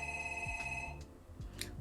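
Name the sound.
house phone ringing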